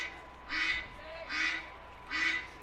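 At a high school baseball game, three evenly spaced duck quacks ring out over the ballpark sound system, each a buzzy nasal honk, moderately loud above quiet background noise.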